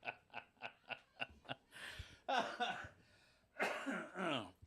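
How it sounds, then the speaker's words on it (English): A run of short, evenly spaced coughs, about six in quick rhythm, heard close up, then a couple of heavier throaty coughs and throat clearing in a small space. "sorry about the cough"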